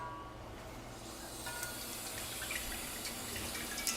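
A steady, fairly quiet stream of tap water runs as a cast iron pan is cleaned, with soft splashes and small scraping ticks, continuous throughout with no talking.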